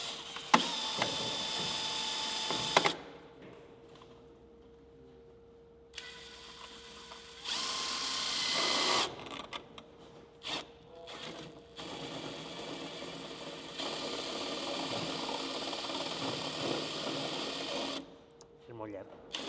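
Power drill driving screws into sandwich panels, several whirring bursts of a few seconds each separated by pauses, with people talking between and over them.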